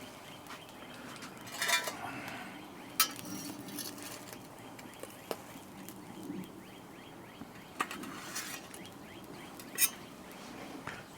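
Metal spatula scraping and clinking on a countertop griddle while stuffed hashbrowns are flipped, with several sharp scrapes and taps over a steady background hiss.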